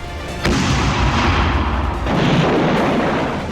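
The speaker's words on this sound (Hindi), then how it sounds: "हिजबुल्लाह ने तेल अवीव पर एक साथ 250 रॉकेट दागे हैं।" Hezbollah rocket fire on Tel Aviv, two loud close booming blasts about a second and a half apart, each trailing into a heavy rumbling roar, with no talking.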